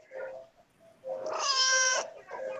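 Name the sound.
cat meowing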